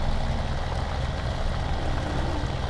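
A tractor fitted with a front loader runs in Farming Simulator 17, giving a steady low engine drone that stays constant and fairly loud throughout, with no talking.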